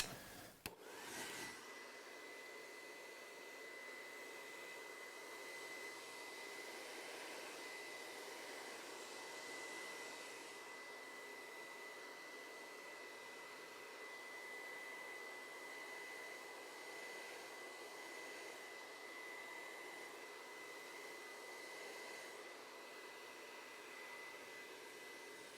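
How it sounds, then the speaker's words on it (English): Hair dryer blowing steadily with its nozzle held at the roots of medium-length hair during a side-part styling, a continuous close whooshing roar with a faint whine, no talking. "holding the nozzle right at the roots of the hair to dry it at the roots and give it just a little bit of lift in the front"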